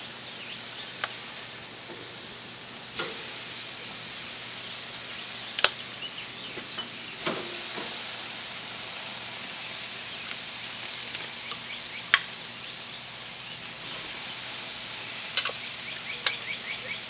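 Tequila lime chicken sizzles on a grill in a steady, close hiss, broken by occasional sharp pops and clicks of handling.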